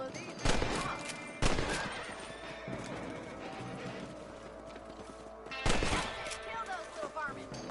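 Rifle shots crack out in Red Dead Redemption as rabbits are hunted among farm crops: two sharp reports early, then a pair of loud blasts later, with game ambience and scattered noises between.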